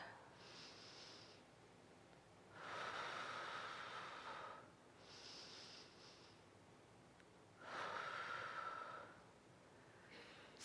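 Slow, deep breathing during a guided breathing exercise, with two long, soft, breathy inhale-exhale cycles, close and quiet, with no talking.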